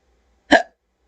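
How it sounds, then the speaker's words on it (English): One abrupt, close vocal hiccup, a short sharp gulping burst in silence. "Now I have hiccups."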